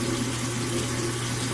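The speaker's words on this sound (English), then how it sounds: "the first thing that I do is I always get my face wet, obviously, with a warm water" Warm water runs and splashes steadily up close while a face is wetted at a sink, a continuous broadband wash with no voices over it.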